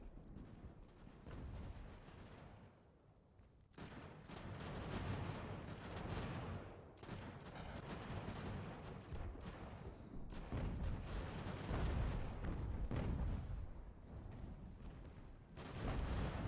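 Continuous distant artillery fire and cannon booms roll through a large-scale battle in the strategy game Ultimate General: American Revolution, layered into a steady rumbling din with repeated overlapping blasts.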